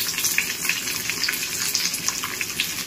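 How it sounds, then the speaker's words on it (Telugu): Onions and curry leaves frying in a pan for gongura and rice, a steady close sizzle and crackle running continuously throughout with no talking. "కొంచెం ఎర్రగడ్డలు వేగిన తర్వాత కరివేపాకు వేసుకోవాలి"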